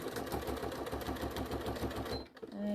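Sewing machine fitted with a walking foot runs a steady, rapid stitching rhythm as it sews backward over a seam, loud and continuous before stopping abruptly near the end.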